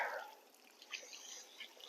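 Water drips from a garden drip irrigation line in a spring zone 8a garden, heard as faint, scattered small ticks and patters that stay quiet and close throughout.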